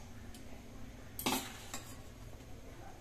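Eggs go into a frying pan for an egg and potato malai curry and are stirred, a sharp metallic scrape of utensil on pan standing out once amid faint sizzling and light clinks.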